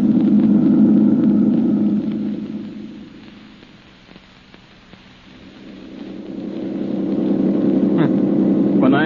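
A car drives along a road in a 1937 radio drama, its engine a steady loud rumble that dips in the middle and swells again, with nobody speaking.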